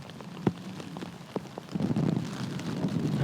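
Wind and rain sweep across a disc golf course during the 2024 Chess.com Invitational, a steady patter of drops with a few sharper taps, the rushing texture swelling and thickening toward the end, no voices present.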